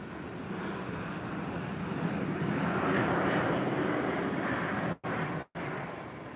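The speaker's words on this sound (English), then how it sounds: "American Eagle E175 coming in right here. Coming in hot." An American Eagle Embraer E175 jet airliner lands at the airport, its engines making a loud, broad roar and rush that swells and holds, with two brief dropouts near the end.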